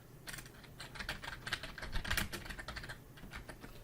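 Quiet, close tapping of fingers on a computer keyboard, a quick and irregular run of keystrokes lasting about four seconds.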